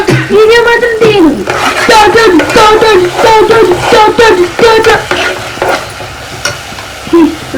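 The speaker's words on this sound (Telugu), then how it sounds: "ఉల్లిపాయల మొత్తం ఆయిల్ తేలే వరకు ఉడికించుకోండి, మంచి ఫ్రై చేసుకుంటే బాగుంటుంది" Onions frying in hot oil in a pan while being stirred for a capsicum and egg pulusu, loud close scraping and clanking strokes in an uneven rhythm over a bed of sizzle.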